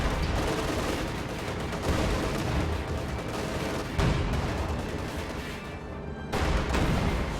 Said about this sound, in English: an LEFH shot will finish the tank off as the Panther tries to make its escape